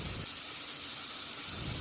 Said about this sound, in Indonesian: tutup panci presto jangan langsung dibuka, biarkan hingga uapnya keluar semua